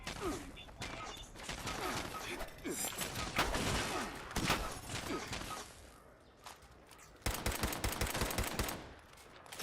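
Pipe gun fire in Fallout 76 crackles in dense, overlapping bursts of repeated shots. A reload pause cuts in partway through, then the shooting picks up again at full loudness.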